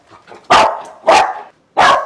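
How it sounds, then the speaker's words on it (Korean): A pet dog named Rowoon barks loudly at a visitor arriving after the doorbell, three sharp, close barks spaced about half a second apart, with faint whimpering noise before the first. "집에 초인종을 오거나 했을 때 반응이 저렇게 많이 짖는 편이에요"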